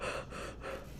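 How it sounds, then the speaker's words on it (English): A person demonstrates short, quick breaths, a pair of sharp gasping inhalations and exhalations close to the mic, each lasting a fraction of a second. "not like short breaths like this,"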